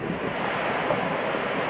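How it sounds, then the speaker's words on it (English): Man-made waterfall in a park, a steady broad rushing wash of falling water mixed with breezy wind buffeting the microphone, constant and fairly loud. "just enjoying the sound of the man-made waterfall in the background"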